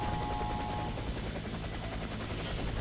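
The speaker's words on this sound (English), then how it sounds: "Helicopter is inbound." An in-game helicopter in the shooter Warface drones steadily with a rapid rotor thump, a constant moderate-level hum with no speech.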